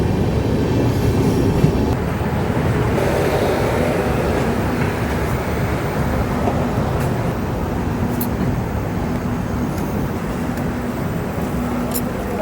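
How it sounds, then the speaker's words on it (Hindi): The Tata–Ernakulam Express rolls past on the railway line at a station, a loud, continuous rumble with faint rhythmic wheel clatter sustained from start to finish. "ये रही टाटा एर्नाकुलम एक्सप्रेस"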